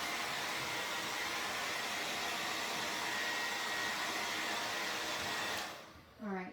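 A hair dryer blows steadily on a craft item, a constant close whooshing roar that cuts off near the end, leaving a brief rattle.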